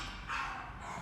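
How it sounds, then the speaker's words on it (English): A neighbor's dog barks from a distance, a single muffled bark over a steady low background rumble. "sorry for this dog that is barking, it's a neighbor"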